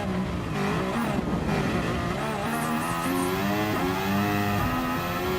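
Engine of an F1 car in Gran Turismo Sport, a loud, high rev that climbs and drops through gear shifts, with faint tire squeal, continuous and close, no voices.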